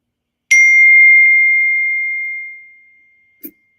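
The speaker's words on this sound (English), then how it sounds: "that was a text message that came through" A text message notification gives one clear electronic ding that rings out and fades slowly over about two seconds. A short faint tap follows, and there is no talking.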